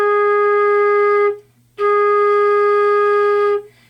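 Flute sounds a steady low A flat twice, each note held over a second with a clean, pure tone and a short silence between, close and loud with no talk.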